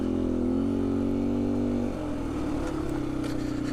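A 2019 Beta 125 RR-S dirt bike with a Yamaha 150cc big bore kit holds a steady loud engine drone at speed, the pitch shifting slightly partway through, close and continuous with no talk.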